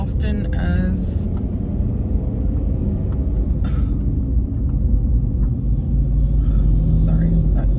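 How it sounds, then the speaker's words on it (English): A truck rumbles past on the road in a steady, loud low drone that holds throughout, with passing-traffic noise and brief higher hiss bursts layered on top. "sorry, that truck just,"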